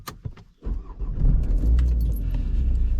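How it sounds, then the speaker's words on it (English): A car engine starting up close by after jangling keys and a brief starter crank; the engine catches and settles into a steady, loud idle rumble. "I'll get the car started."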